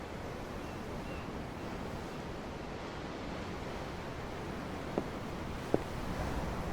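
Ocean waves aboard a ship in Tales of Arise: a steady, even wash of surf and wind noise, continuous and moderately loud, with two faint clicks near the end and no speech.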